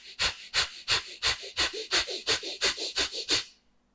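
Pranayama breathing with forceful nasal exhales: about eleven sharp, evenly spaced puffs of air pushed out through the nose, close and loud, in a steady rhythm before stopping.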